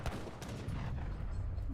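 A massed musket volley crackles in Age of Empires III, dense overlapping gunfire bursts forming a continuous rattling barrage, fairly quiet and distant-sounding throughout.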